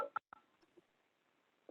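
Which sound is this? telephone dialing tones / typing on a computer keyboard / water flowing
telephone dialing tones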